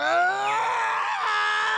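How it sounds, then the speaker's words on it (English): A harsh, guttural screech like feedback from a giant speaker blares in the visual novel Steins;Gate, loud and continuous with a wavering, shifting pitch. "A terrible screech fills my head like feedback from a giant speaker"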